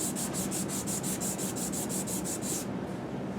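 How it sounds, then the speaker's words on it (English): A saxophone neck cork being sanded by hand to fit, with steady rhythmic back-and-forth rubbing strokes, close and continuous, ending abruptly near the end. "So I get to sand some more."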